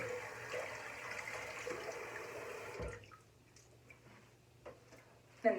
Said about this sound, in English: I'm just gonna wet my face.